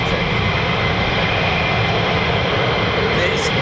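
A military jet climbing out from RAF Lakenheath, home of the USAF 48th Fighter Wing's F-15E Strike Eagles and F-35A Lightnings, making a loud, continuous broadband roar that holds steady throughout with no talk.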